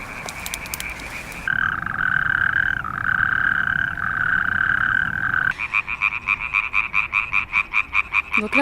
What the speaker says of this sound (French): on est sur une mare qui est intéressante puisqu'elle accueille de nombreuses espèces d'amphibiens, des rainettes vertes, des crapauds calamites, des pélodites ou encore certaines grenouilles vertes